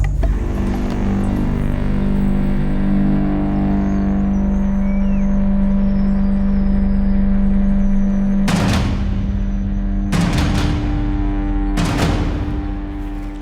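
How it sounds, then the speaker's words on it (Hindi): A car approaches on a highway with a steady, rising engine drone close by, then three sharp, loud bangs ring out in quick succession near the end. "सर गाड़ी आ गई।"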